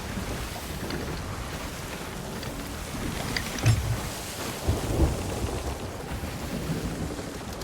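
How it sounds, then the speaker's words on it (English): Stormy weather at sea in Sea of Thieves, with a steady wash of rain and wind and a couple of low thunder rumbles near the middle, all heard without any voices. "But apparently we're still in the storm."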